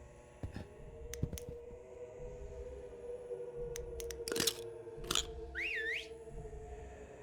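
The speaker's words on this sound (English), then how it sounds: "I don't know if I should have whistled." A character whistling in the horror game The Classrooms: a short, rising-and-falling whistled tune near the end, set among scattered footstep-like thumps, clicks and a low ambient hum.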